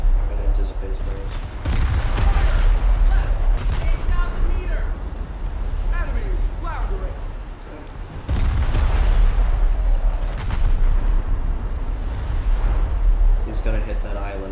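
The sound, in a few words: battleship guns firing shells, video game, USS North Dakota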